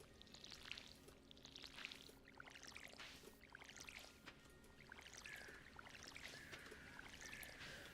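Stardew Valley watering can splashing onto planted seeds, repeated gentle pouring and trickling bursts with light chiming tones, quiet and close, with soft game background beneath and no talk.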